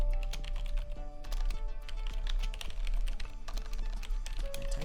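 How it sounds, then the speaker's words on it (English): Fast, uneven clatter of keys on a computer keyboard, close and steady for several seconds with brief pauses between bursts and no voice over it. "My typing has gone to heck"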